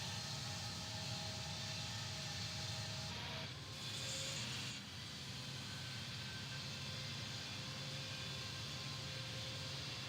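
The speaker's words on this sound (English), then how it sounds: "Just take off. Good, smooth roll on takeoff." An airplane's takeoff roll in Infinite Flight gives a steady broadband engine roar with a faint whine, constant and moderately loud throughout, briefly shifting in the middle.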